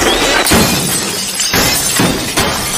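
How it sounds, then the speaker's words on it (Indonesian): Fluorescent tube lamps in a room burst and shatter, a loud continuous crash of breaking glass with several sharp impacts and tinkling fragments rolling on for nearly three seconds. "Seluruh lampu neon di ruangan pecah tanpa sebab"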